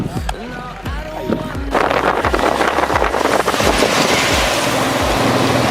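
River current of the Phor river rushing past a riverside temple on a misty day, a steady broad wash of flowing water with gusts of wind noise, while someone talks over it throughout.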